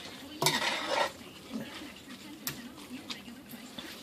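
A spoon clattering while stirring corned beef and cabbage in a pot, with a few sharp scrapes and clinks over a soft simmering background.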